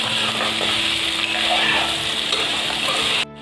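Pork with dried chilies sizzles steadily in a hot pan as it is stirred, a loud continuous frying hiss that cuts off abruptly at the end.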